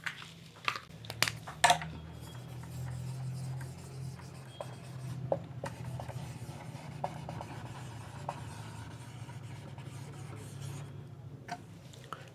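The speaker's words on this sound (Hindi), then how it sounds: "इसे मैं लिख देती हूँ।" Marker or chalk scratching across a classroom board during a democracy lesson, a string of short rubbing and tapping strokes, some sharp, over a steady low hum with no talk.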